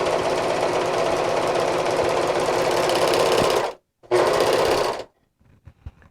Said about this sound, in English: now I'm going to cut this fabric and overlock it at the same time